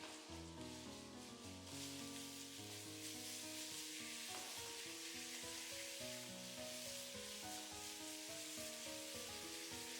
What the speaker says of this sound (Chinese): 油熱以後把剁好的肉末倒進來，小火慢慢的煸炒，炒香炒散